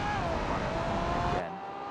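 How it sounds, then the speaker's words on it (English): A GT race car at the Bathurst Grand Prix is pushed hard through corners, a close high-revving engine wail holding steady then cutting off sharply near the end. "Around those corners, you can see he's really pushing the car as far as he can"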